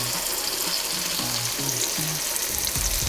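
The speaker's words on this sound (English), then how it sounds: "we're gonna put in all of our aromatics, ginger, garlic" Ginger, garlic and sauces frying in a wok for Sichuan twice cooked pork, a steady loud sizzle filling the whole clip with faint stirring scrapes and a low knock near the end.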